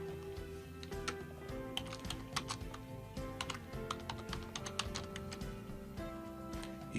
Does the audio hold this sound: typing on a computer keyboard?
yes